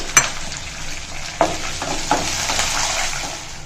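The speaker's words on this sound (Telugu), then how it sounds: "టీ స్పూను జీలకర్ర వేసి అన్నింటినీ బాగా దోరగా వేయించుకుందామండి" Cumin seeds, lentils and green chillies fry in hot oil with a steady sizzle, broken by a few sharp clinks of a stirring spoon against the pan; close and continuous, with no talking.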